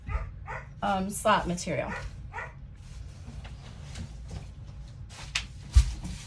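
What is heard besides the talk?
dog barking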